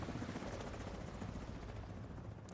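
Video game helicopters thud with rapid, steady rotor beats, a dense and constant drone that stays close and unbroken for the whole stretch.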